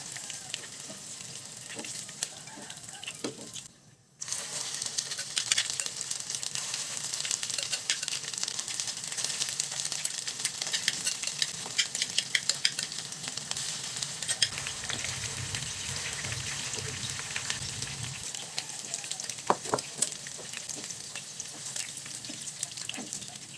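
Pork meatballs fry in hot oil with a loud, steady sizzle and crackle throughout, briefly dipping once, with no talking.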